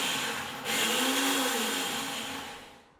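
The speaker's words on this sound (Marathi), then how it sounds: "आता याला एकदम बारीक करूया, एकदम असं मऊसूत गंधासारखं वाटून घेऊ" A mixer grinder whirs loudly as it grinds cashews and spices into a smooth paste for eggless mayonnaise, the motor note rising as it speeds up and then winding down toward the end.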